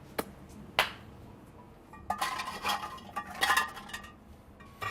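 Light ceramic and metal clinks as a lid is set onto a fermentation crock of Italian giardiniera pickle relish, a few sharp taps followed by a brief cluster of rattling knocks, close and fairly quiet.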